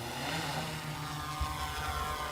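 A police drone flies overhead, giving a steady droning hum with a buzzing tonal whine that holds constant at moderate volume throughout.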